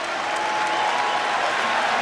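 Crowd in a basketball arena at a 1997 NCAA men's first-round game between Coppin State and South Carolina, cheering and applauding as a steady roar.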